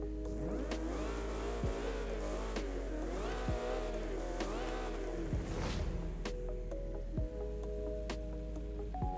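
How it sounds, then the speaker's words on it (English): In the racing game Forza Horizon 5, a car engine revs repeatedly in rising and falling surges, loud and close, then settles to a steadier hum, with no talk. "Very, very interesting sounding engine."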